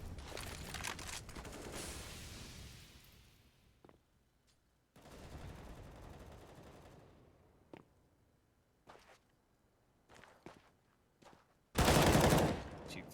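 Gunfire in Counter-Strike on the Dust2 map comes in scattered bursts and single shots, fairly faint at first, then a loud close volley near the end, with a commentator talking over it.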